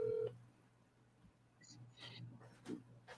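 A phone being dialed to call Goodwill gives a short steady tone at the start, then faint taps and soft clicks under a low hum, with a brief voice and some rustling partway through.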